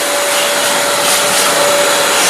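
A vacuum cleaner sucks up leftover tile debris during a home renovation. It gives a loud, steady roar throughout, close up, with a faint whistle running through it and no voices.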